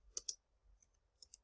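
Keyboard keys click faintly and sparsely as a search goes into YouTube, with two sharp taps, a pause, then a few more light clicks.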